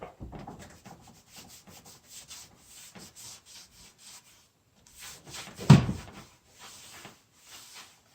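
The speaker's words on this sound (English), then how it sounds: "we'll wipe any glue off the surface" A cloth rubs and wipes glue off glued wooden boards for a dining table in soft, repeated scrubbing strokes, close and quiet, with one louder knock partway through.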